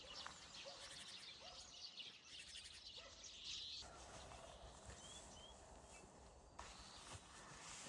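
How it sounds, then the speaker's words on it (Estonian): Small birds twitter and chirp outdoors on an Estonian farm, with high scattered calls over a steady noisy background, alongside a louder gobbling fowl, likely a turkey, that dominates the clip. "Aga see linnukeste sidistamine on võrratu."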